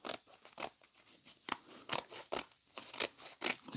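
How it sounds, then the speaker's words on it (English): Scissors snip through a brown paper grocery bag, giving about nine crisp, evenly spaced cuts close up with no talking. "So I'm going to cut this one."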